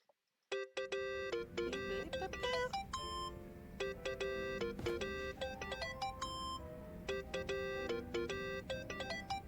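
A mobile phone ringtone plays in Yakuza: Like a Dragon, a bright electronic melody of repeated beeping tones that rings steadily and loudly for several seconds with no talking.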